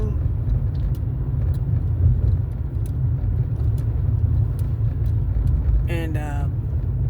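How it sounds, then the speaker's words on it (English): Early morning road traffic rumbling past, a steady low engine drone from nearby vehicles, with a brief voice breaking in near the end. "that's a lot of traffic for 6 o'clock in the morning"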